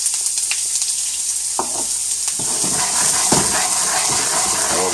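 Chopped carrots and celery hit hot olive oil in a pan and set off a loud, steady sizzle. Scraping stirs and clinks of a utensil against the pan cut through the frying.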